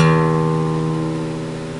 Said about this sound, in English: So your E string should sound like this.